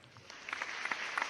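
A live studio audience claps, with scattered individual hand claps standing out over a soft wash of clapping, fairly quiet and brief.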